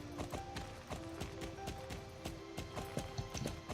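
Horse hooves clip-clop in a steady, even trot while riding in the video game Star Stable, a repeating rhythmic beat over continuous background game music.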